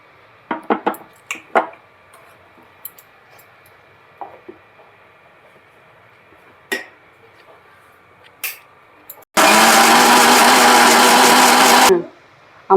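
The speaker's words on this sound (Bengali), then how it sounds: "জল দিয়ে নেব। মিক্সিতে পেস্ট করে নিই।" A kitchen mixer grinder whirs loudly as it blends a paste with a little water, running steadily for about three seconds near the end after scattered clicks and handling knocks.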